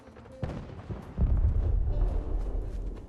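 A deep explosion goes off in Fallout 4 after a few sharp cracks, then swells into a loud, low rumble that rolls on for a couple of seconds.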